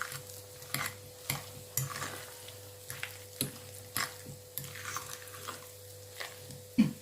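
Potato mash mixed with lemon juice and mayonnaise is stirred in a bowl, giving soft, wet squishes and scrapes in an irregular rhythm, quiet and close.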